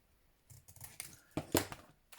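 Scissors snip through paper while trimming a hinge for a junk journal puzzle book, a few quick close cuts of moderate loudness.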